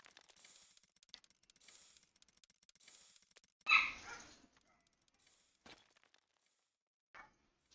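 A dog gives one loud, close bark against a quiet background of faint ticking and clicking, with a brief softer yip a few seconds later.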